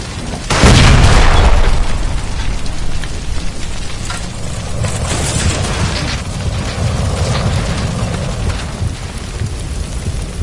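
A gas line explodes in L.A. Noire inside the Nicholson Electroplating building, a loud sudden boom that swells and lingers, then gives way to a steady crackling, rain-like roar of fire and debris.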